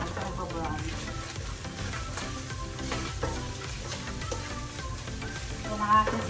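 Plenty of onions frying and browning in a pan give a steady, close sizzle with occasional stirring scrapes, continuous throughout, while a person talks over it.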